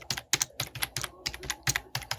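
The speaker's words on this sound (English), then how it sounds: "You're typing really quick." Rapid typing on a computer keyboard, a dense run of quick clicking keystrokes in uneven bursts, close and distinct with no speech.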